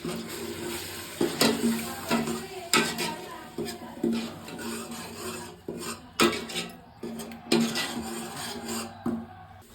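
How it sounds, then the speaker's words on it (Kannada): Ginger garlic paste stirred in a pan with a metal spoon for a bamboo shoot mutton gravy, giving repeated scraping and rasping strokes against the pan at an uneven rhythm, close and fairly loud, with no talking. "ಶುಂಠಿ ಬೆಳ್ಳುಳ್ಳಿ ಪೇಸ್ಟ್ನ ನೀಟಾಗಿ ಫ್ರೈ ಮಾಡ್ಕೋಬೇಕು"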